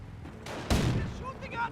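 Rapid gunfire and artillery bursts from a Company of Heroes battle, loud and dense, with a sharp blast near the middle over a steady roar of combat.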